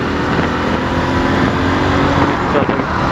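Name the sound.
motorcycle engine running after shifting into third gear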